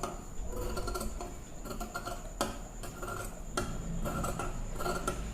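Scissors cutting blouse lining fabric for a langa blouse, a series of crisp snipping clicks at irregular intervals, close and fairly quiet, with no talk.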